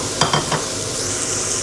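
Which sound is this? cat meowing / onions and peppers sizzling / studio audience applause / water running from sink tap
onions and peppers sizzling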